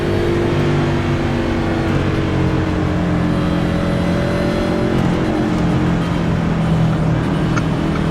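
Steady, loud engine roar from race cars in an iRacing Daytona 500 game race, a dense droning pack sound holding constant throughout with no speech.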